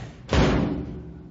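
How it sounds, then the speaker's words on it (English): A metal water tank door slams shut with a single heavy, booming thud that rings and fades over about a second, close and alone. "I better get this door closed and get back down."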